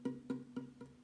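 Four dull, muted plucks of a guitar string not pressed hard enough against the fret, evenly spaced and quiet, each a short thud with little ring, played alone.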